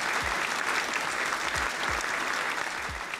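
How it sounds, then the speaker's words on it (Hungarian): An applause sound effect plays on a livestream, with steady, dense clapping from a crowd lasting over three seconds, punctuated by a few soft low thumps beneath it. "Jár a taps mindenkinek"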